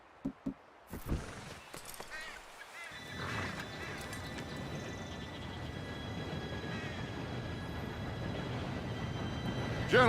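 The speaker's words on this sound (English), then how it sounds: "Train should be here any minute now." In Red Dead Redemption 2, a train approaches with a low rumbling rail roar that builds and holds, mixed with horse whinnies and hoofbeats, after a few sharp knocks at the start.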